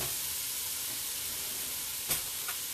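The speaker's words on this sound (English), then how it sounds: "About 1/4 of a cup of red wine vinegar. You're going to let that just kind of marry away in there. Kind of deglaze the bottom of your pan." Red wine vinegar poured into a hot pan while making vegan minestrone soup, giving a steady, soft sizzle and hiss with a faint brief crackle near the end.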